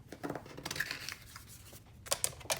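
Scissors snip small pieces of Opulent Silver and Gold metallic paper, a string of short, close crisp cuts with light rustling between them, quiet and without talk.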